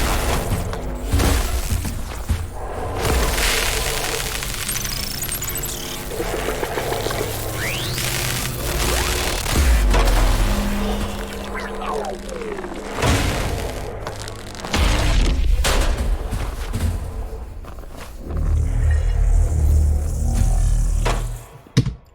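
Redesigned Star Wars Fallen Jedi sound effects play with no talk: loud, dense booms, crashes and sharp impacts hit over a continuous rumbling bed, with a brief swelling tone near the middle and heavy hits near the end.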